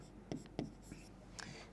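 Marker or chalk strokes on a maths classroom board as a line of text is written, a few quick soft scratches and taps, faint and close without speech.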